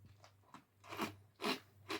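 Tiny crunchy egg balls snap between the teeth in close, loud bursts, three or four crisp crunches in quick succession with short quiet gaps and no talking.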